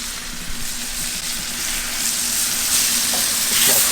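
Fish sizzles loudly and steadily on a hot griddle, a dense continuous frying hiss with faint crackles and no talking.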